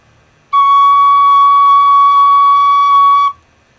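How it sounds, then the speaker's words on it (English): A single sustained C note blown on a tin whistle during a beginner lesson, clear and steady for about three seconds, bright and close with a pure, unwavering pitch and no talk over it. "I'm going to blow, and the first note is a C"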